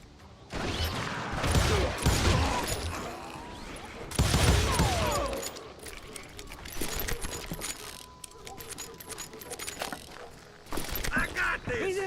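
Shotgun blasts in a video game, several loud booming shots at irregular intervals mixed with clattering game effects, with a voice talking throughout.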